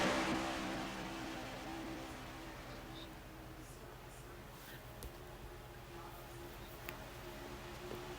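Race car engines from a racing video game at Watkins Glen drone steadily as a pack runs through the bus stop chicane, a continuous loud whine with no voices heard.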